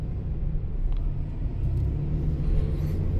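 Rental car driving along a road in California, a steady low rumble of engine and road noise filling the cabin throughout, with no talking.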